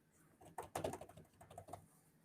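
A computer keyboard being typed on in an office, a brief irregular run of close clicks and key taps with no voices.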